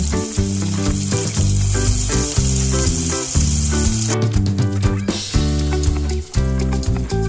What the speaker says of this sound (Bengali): পনিরগুলো ভাজা হয়ে গেলে ওই তেলে আমি পালং শাকের পেস্টটা দিয়ে দেব।